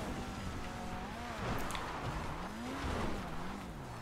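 A car in GTA 5 drifts with long wavering tire squeals sliding up and down in pitch over a steady engine drone, loud and continuous.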